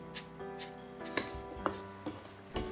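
A knife slices peeled, cored apples into thin slices on a board, giving a series of crisp, evenly spaced cutting taps about every half second, close and fairly quiet, with no talking.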